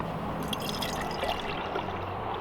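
A dark canned drink pours into a glass behind a bar counter, giving a short, steady, close liquid splash and gurgle with no voices over it.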